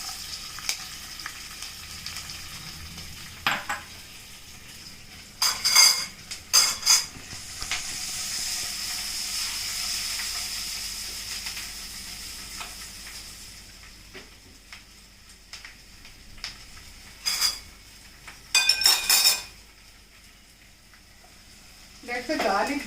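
Garlic frying in a pan for Andhra gongura pachadi, a steady soft sizzle and hiss with bursts of louder crackling and stirring, while a person talks at times.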